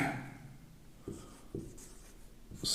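Chalk or marker writing on a board during a physics lesson on Gauss's theorem, with a few distinct strokes and taps close up in a quiet room and no talk.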